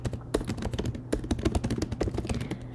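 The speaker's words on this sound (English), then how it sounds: "And I can type in the answers" Rapid, uneven keystrokes on a computer keyboard as answers are typed into a quiz form, close and clear, with brief pauses between bursts of clicks.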